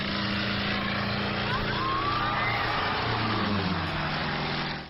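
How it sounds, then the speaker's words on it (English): A propeller plane roars past close and loud as it flies under a bridge, a steady engine drone with a rising and falling pitch sweep partway through, no talking. "look at this plane going under the bridge"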